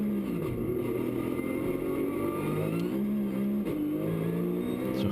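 Porsche GT3 Cup race car pulling out of the pit lane at Spa during a Benelux Challenge race, its engine revving loud and close with rising and falling pitch sweeps under a steady mechanical drone.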